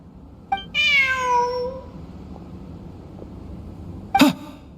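A cat in Genshin Impact gives one clear, close meow, followed a few seconds later by a short sharp sniff or sneeze-like sound over quiet ambience.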